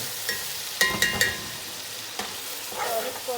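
Frozen tomatoes fry in a pan with a steady sizzle while a utensil stirs them, giving a few sharp scraping clacks and softer shuffling.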